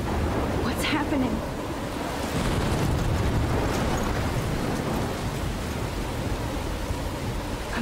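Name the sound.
thunderstorm in the video game Life Is Strange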